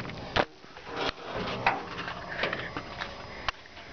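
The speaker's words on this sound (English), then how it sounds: "use two hands to open this hood up" The hood of a 1959 Chevrolet Apache pickup being lifted open, heard as scattered metallic clunks, creaks and a sharp latch click close by, with no talking.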